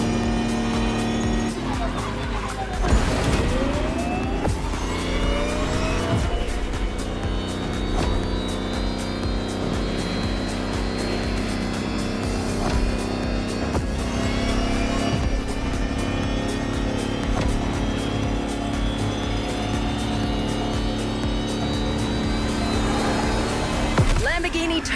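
A Lamborghini Terzo Millennio races in The Crew Motorfest, its engine roaring steadily at high revs with rising gear sweeps and occasional tire squeal, loud and continuous, with voices briefly under it.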